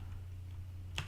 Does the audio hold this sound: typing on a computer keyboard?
yes